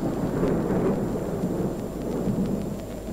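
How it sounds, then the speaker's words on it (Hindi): A steady wash of rain with a low rumble of thunder beneath it, dense and continuous, fairly loud and close, with faint dripping ticks scattered on top and no voices. "वर्षा थम रही है।"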